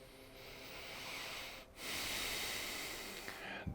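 Slow, deep breaths drawn in and let out during a quiet meditation, close and soft, with a long airy inhale, a brief pause, then a steady exhale.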